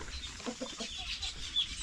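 Chickens cluck softly at a moderate distance, a few scattered short calls over faint background noise.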